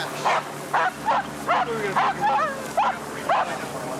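A police K-9 dog gives a steady run of about eight sharp barks and yips at even intervals, mixed with whimpering whines, close and loud over a low background rumble.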